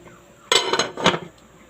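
A lid set onto a metal cooking pot in a home kitchen during dinner prep gives a close, clattering clink followed by a second rattle as it settles, with no talking.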